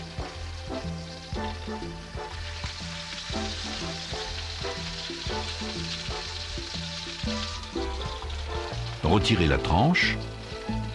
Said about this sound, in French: Posez la tranche dans une poêle chauffée à sec et faites-la saisir dans son propre gras